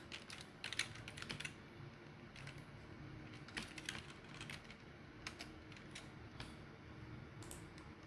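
Fingers tap on a computer keyboard in irregular bursts of quick, soft clicks while entering data, close and quiet against a faint steady room hum.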